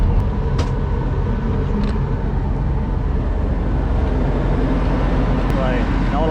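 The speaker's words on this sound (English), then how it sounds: "We've got the generator fired up, got some AC going in the back." Steady broadband hum of a Class A RV motorhome's generator running to power the air conditioning in the back, continuous and fairly loud throughout, with faint voices and outdoor noise mixed in.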